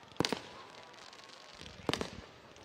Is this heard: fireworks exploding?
yes